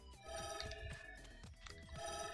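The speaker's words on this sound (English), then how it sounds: "Why am I getting so many notifications?" A cluster of ringing, chiming notification tones sounds in quick succession, bright and tonal with overlapping repeated pings at moderate volume, no speech.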